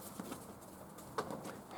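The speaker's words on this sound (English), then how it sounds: "The pigeon made me jump." A pigeon in an abandoned hospital attic gives faint soft coos and a brief flutter of wings, quiet and somewhat distant against a low background hush.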